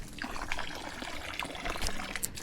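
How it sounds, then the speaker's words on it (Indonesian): Steady water splashing from a spout at a mountain spring along a hiking trail on Gunung Andong, a continuous close trickle and pour with no talk. "sumber airnya seperti ini, pancuran"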